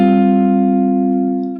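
A guitar holds a single hammered-on note at the 12th fret of the G string, part of a vamp, ringing loud and close and fading slowly over a second and a half.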